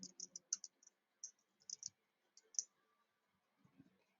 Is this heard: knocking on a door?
no